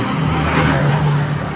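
A motorized tricycle engine runs loud and close, a steady throbbing drone with a slight rise in pitch midway.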